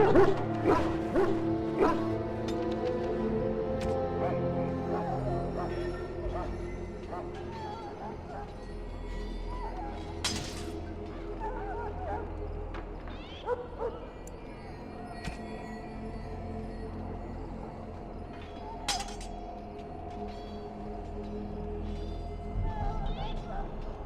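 Hounds barking and whimpering in the kennels of an army camp at Ostagar in Dragon Age: Origins, repeated yips and barks at mid distance over ambient sound and talking voices.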